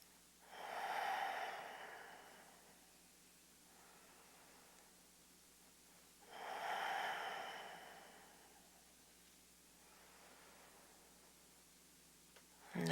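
Slow, deep conscious breaths during a yoga pose, two long airy exhales several seconds apart and a fainter third, heard quietly and close in a still room.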